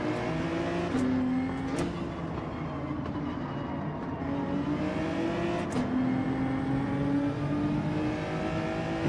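Race car engine in Gran Turismo 7 online daily racing, a steady loud drone with rising and falling pitch as the car accelerates and flies past other cars, continuous throughout with no talk.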